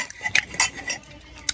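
A large spoon clinks against a bowl of arroz caldo while eating, a few sharp bright metallic taps spaced irregularly, close and clear with no talking.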